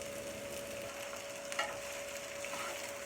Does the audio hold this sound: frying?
yes